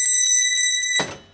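A small bell rings in several quick, bright pulses with a clear metallic tone, loud and close, then ends in a dull clunk and fades out.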